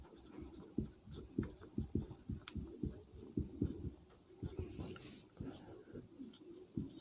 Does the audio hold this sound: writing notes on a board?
yes